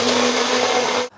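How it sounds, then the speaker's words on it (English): A stick blender whirs loudly and steadily as it emulsifies mayonnaise, a single continuous burst that cuts off abruptly near the end. "You place the stick blender in, and then when I turn it on, you slowly pull up and it'll emulsify"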